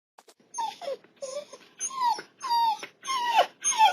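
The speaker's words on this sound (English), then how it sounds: "A dog whining?" Dog whining from the video game Dark Town Secrets: Lost Lulu, a series of high, wavering whimpers and yelps in quick bursts, close and fairly loud, with no voices over it.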